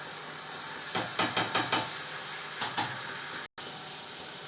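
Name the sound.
tamarind frying in oil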